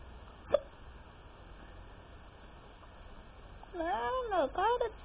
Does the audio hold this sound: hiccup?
yes